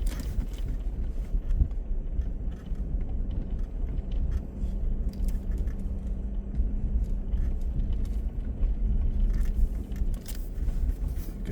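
A car creeps downhill in first gear on a snowy road, a low steady engine drone with faint crunching and intermittent rumble throughout.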